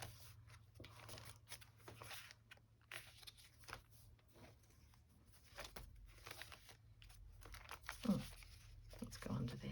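Paper folded into a fold-out flap in a journal, soft close crinkling and rustling handling sounds, steady and low under faint background noise.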